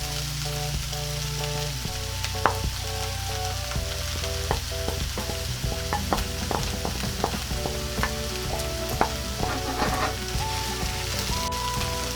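Corned beef and potatoes fry in a pan with a constant dense sizzle and crackle, broken by scattered scraping and tapping of a utensil as the food is stirred.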